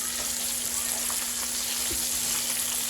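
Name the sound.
sausage frying in a pan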